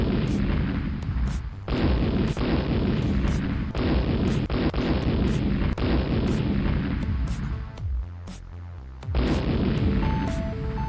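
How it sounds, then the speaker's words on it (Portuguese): Animated collision explosion effects boom repeatedly, loud and dense, with sharp blasts every second or two over a continuous roaring rumble and a brief lull before they resume. "ele faça o barulho da explosão"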